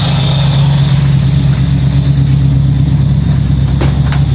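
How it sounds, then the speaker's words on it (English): A 1965 Ford Mustang V8 engine idles steadily as it warms up, a loud, even low rumble held close throughout, with a couple of faint clicks near the end. "So I'm just letting the motor warm up"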